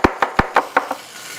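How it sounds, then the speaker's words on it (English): A knife chops anchovies on a cutting board in six quick, firm knocks that slow and soften toward the end, close and alone. "I'm gonna just chop the anchovies and put them right in there"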